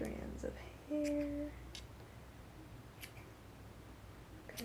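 Scissors snipping the ends of yarn strands for a crochet minion hat, a few quiet close cuts in a quiet room.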